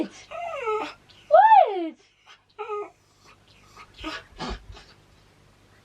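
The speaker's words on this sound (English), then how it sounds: "my dog is just fretting" A dog whimpers and frets indoors, giving several high, wavering whines and some snuffly breaths at close range, while a person briefly speaks once.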